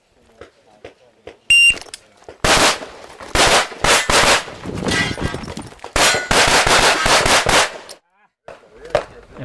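Rapid bursts of pistol gunfire ring out during an IPSC practical shooting stage run at a World Shoot match, loud close volleys of shots in quick strings separated by brief pauses, with a shot timer beep near the start.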